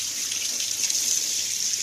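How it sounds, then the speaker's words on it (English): Warm water streams steadily from a tap into a container in a workshop, a continuous close hissing rush that stays even in level, with no voices. "I'm going to put warm water in this."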